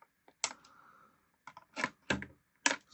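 Sharp plastic snips from scissors cutting tags off Japan-exclusive Transformers Adventures toy packaging: a single close click, then a cluster of four crisp cuts in quick succession, loud and near with no talk.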